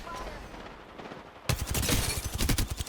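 Gunfire in the video game Apex Legends: after a quieter opening, a loud, rapid automatic burst of shots bursts in and keeps hammering steadily to the end.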